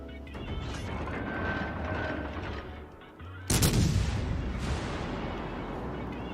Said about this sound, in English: They're shooting at the battleships